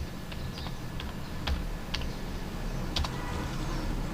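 Typing C++ code on a computer keyboard, steady soft key clicks in an irregular rhythm with a few louder taps, close by, with no voices.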